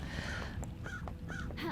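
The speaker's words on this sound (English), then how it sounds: "Ah, crows." Crows caw in the video game Paradise Killer, several short rasping calls in quick succession over a steady low ambient rumble, moderately loud with no talking.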